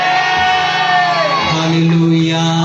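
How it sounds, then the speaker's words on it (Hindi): A church congregation shouts Amen loudly together, a sustained loud massed cry of many voices that swells and holds for the whole stretch. "ऊंची आवाज के साथ चिल्लाकर बोल दे आमेन"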